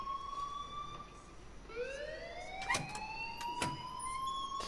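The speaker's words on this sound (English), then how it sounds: "please turn off that alarm since that's your job" Alarm ringing in the video game Life is Strange: a siren-like electronic tone that rises and sweeps, with sharp broadband clangs as it goes, fairly faint and heard alone.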